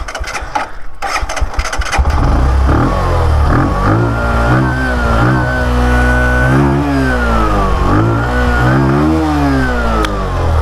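A Bajaj CT110X motorcycle engine cranks and catches, then settles into a loud, close idle with the revs rising and falling in steady waves.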